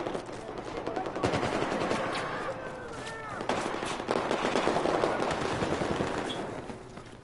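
Rapid bursts of automatic gunfire in the Battlefield 4 video game crackle continuously at moderate loudness, layered with game effects and some speech-like sounds throughout.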